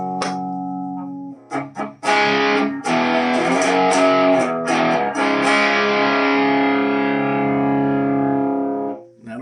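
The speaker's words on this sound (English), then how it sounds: "when I swap it back into LED, you'll hear the circuit kind of smooths out a little bit." Electric guitar through a homemade distortion pedal set to LED clipping, loud, saturated chords and picked notes played in a short riff, stopping and restarting before a long ringing sustain, with no talking.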